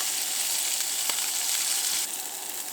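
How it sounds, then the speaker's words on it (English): Green beans heat in a hot pan at a truck campsite in the dunes, a steady loud sizzle and hiss holding for a few seconds, close up, dipping slightly near the end. "we're going to heat the green beans up a little bit now"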